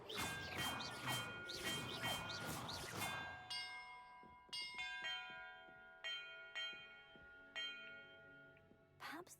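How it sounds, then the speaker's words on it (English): Bells ring out in a video game puzzle. A quick cluster of overlapping chimes is followed by separate single strikes, each leaving a clear, lingering metallic tone that slowly decays. "Perhaps the map contains clues about the order I'm supposed to ring the bells in"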